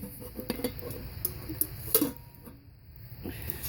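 An aluminum camping pot and lid are handled up close, giving light metallic clinks, taps and scrapes scattered irregularly over a quiet outdoor background.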